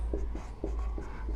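Chalk or marker strokes on a board during a maths lesson, a series of short scraping taps in an uneven rhythm, close and moderately quiet, with no talking.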